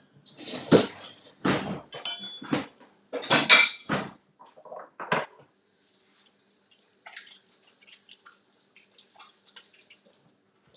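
Skillet lifted and a spatula scraped around a French omelet as it is folded, giving a run of close, loud metallic clinks and scrapes at first, then fainter scattered taps.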